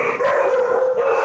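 Several dogs bark and howl together in a sustained, loud chorus that runs unbroken for the whole moment, with no voices over it.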